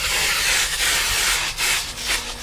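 Loud, close steam cleaner hissing continuously against the interior upholstery of a 1990 Honda Civic, with a slight surging pulse as the nozzle works the fabric.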